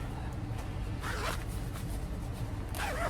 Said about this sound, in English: I wish my zipper would work.